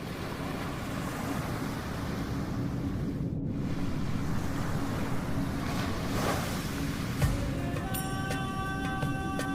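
Rising sea overflowing canals and flooding the land: a steady, dense roar of waves and surging water with wind-like rush throughout, and faint tonal chimes entering near the end.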